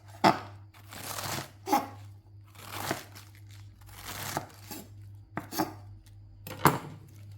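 A knife chops lettuce for an avocado salad, a series of crisp, crunchy cuts in an irregular rhythm, fairly close and alone, with a steady low hum underneath.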